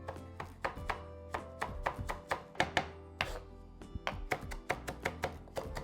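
Italian parsley chopped fine with a knife on a board, a steady run of close, crisp knife strikes at a quick, slightly uneven rhythm with brief pauses, alone without talk.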